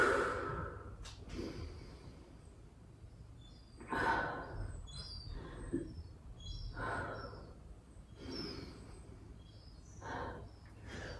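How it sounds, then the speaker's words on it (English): Slow restorative breaths drawn in child's pose during a yoga workout, a series of soft, close sighing inhales and exhales spaced a few seconds apart, with faint birdsong in the background. "Take a few restorative breaths in child's pose"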